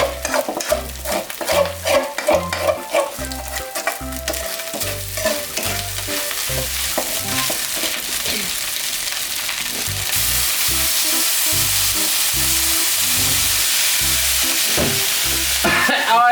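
Field rat meat stir-fried with plenty of spices in a pan, a continuous close sizzle with a loud hiss and rhythmic scraping stir strokes throughout, no talk.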